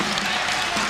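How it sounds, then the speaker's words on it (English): A crowd at a 1993 men's volleyball match against Ohio State cheers and claps to pump up the team, a dense, steady roar of noise that lasts about a second. "Crowd trying to get the team pumped up"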